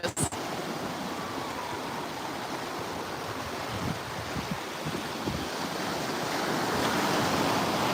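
Ocean surf rolls steadily onto St. Pete Beach, Florida, a continuous broadband wash of waves with wind buffeting the microphone, building slightly louder toward the end with no voices.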